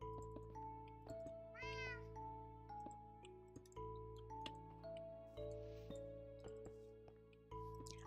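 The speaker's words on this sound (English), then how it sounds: "I like having the cat with me because it means there'll be no creepers." A Minecraft cat meows once, a short rising-falling cry near the start, over looping game music with soft ticks and clinks.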